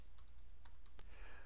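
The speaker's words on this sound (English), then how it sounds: "And then we just start typing." Computer keyboard typing during data entry: a quick, irregular run of light plastic key clicks, close and clear, with no talking.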